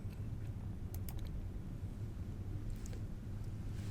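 Quiet clicks of typing on a computer keyboard, a few scattered short keystrokes in small clusters over a steady low background hum, no voices.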